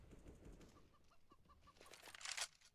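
Chicken clucking on the Inferno map of CS:GO, a run of short, evenly spaced clucks followed by a burst of wing flapping, faint under the game's background sounds.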